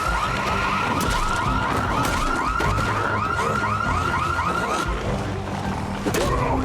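A car alarm in the zombie survival game Project Zomboid wails in a steady repeating electronic pattern, loud and continuous, layered over dense game ambience.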